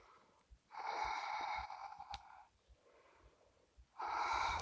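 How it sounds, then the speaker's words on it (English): Slow breathing while holding a yoga pose, a few long nasal inhales and exhales with a snorting, slightly wheezy edge, close and quiet, separated by brief pauses. "Two more breaths"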